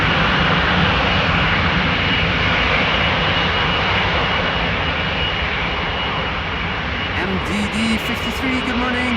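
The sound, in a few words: jet airliner departing from runway 18 left at Amsterdam Schiphol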